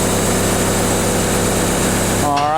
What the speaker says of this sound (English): As with everything else, just keep the engine nice and slow.